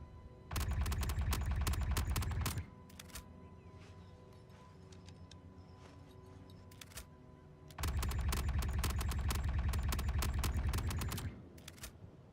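Rapid automatic gunfire in a space shooter game, heard as two long, loud, steady bursts of fast shots separated by a quieter stretch of mechanical clicks.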